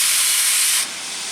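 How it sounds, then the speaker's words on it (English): An oil-fired steam locomotive on a scenic narrow-gauge railroad releases a loud, close, continuous hiss of steam that drops abruptly to a softer hiss partway through. "It's still definitely a steam engine."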